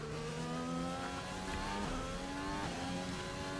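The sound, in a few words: F1 car running laps at Hungarian Grand Prix, video game F1 2020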